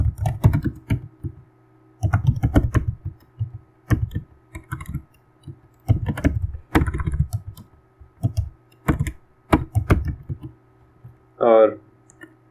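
Typing Python code on a computer keyboard: bursts of rapid key clicks in short clusters, close and fairly loud, with pauses between words and a brief spoken voice near the end.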